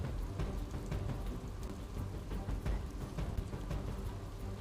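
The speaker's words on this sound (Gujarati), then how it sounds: "તો ચારે તરફ વરસાદી માહોલ જોવા મળી રહ્યો છે" Heavy, continuous rain pours down on waterlogged garba grounds in Vadodara, a dense steady hiss with low rumbling underneath, with no voices present.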